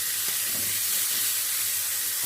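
Fish frying in hot oil in a pan on a home stove, a steady broadband sizzle and hiss running unbroken and fairly close throughout, with no talking.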